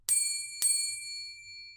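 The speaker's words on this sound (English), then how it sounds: "a double bell will ring to indicate the start of the exam" Exam bell gives two sharp rings about half a second apart to start the exam, each a bright metallic ding that rings on and slowly fades, clear and alone.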